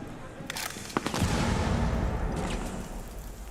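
Bursts of gunfire in the tactical shooter Rainbow Six Siege during a Munich Major esports match: sharp shots crackle early on, then merge into a dense, sustained roar of battle noise.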